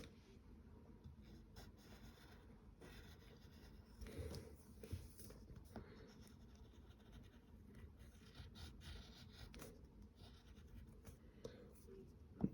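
A pen scratching across paper while sketching a cartoon face, soft irregular strokes and scrapes close up at low level, with occasional faint speech.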